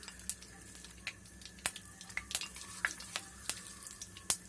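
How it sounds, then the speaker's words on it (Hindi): Cumin seeds crackle and sizzle in 3 to 4 tablespoons of hot cooking oil, a steady frying hiss broken by sharp, scattered pops, close up with no talking. "गरम होने के बाद ज़ीरा डालिए"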